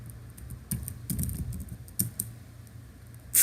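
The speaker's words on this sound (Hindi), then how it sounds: "जैसे कि मैं टाइप करूँगा" Irregular bursts of computer keyboard typing, close and moderately loud, as a search term is entered on a website, with a sharper click right at the end and no talking.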